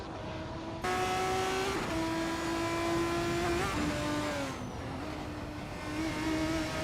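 Engines of video game racing cars, among them a 2019 Delara F312, rise and fall in pitch as they rev and shift, loud and close. The whine is steady, with one abrupt jump in level.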